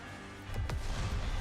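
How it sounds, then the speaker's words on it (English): A particle cannon blast in the game Goddess of Victory: NIKKE booms out over a steady rumbling bed, with a sharp burst followed by a louder, sustained roar of destruction. "The particle cannon emits a blast of light"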